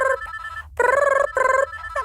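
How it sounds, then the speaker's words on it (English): A telephone rings in bursts, with a repeated electronic trill of two tones heard up close, alone and with no voices over it. "that's the other telephone."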